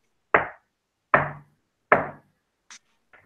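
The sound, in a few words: knocking on a large wooden door in a role-play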